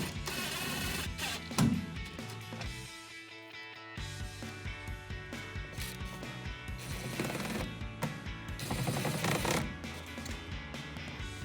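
Power driver running screws into a black rear wheel well guard on a 2007-2013 Chevrolet Silverado 1500, a steady mechanical whirring with ratcheting bursts and a short pause, fairly close and continuous.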